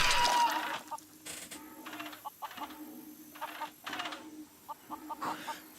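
A chicken in the video game Wild Wild West: The Steel Assassin clucks in a run of short, choppy bursts over a low steady hum, moderately close, with no talking.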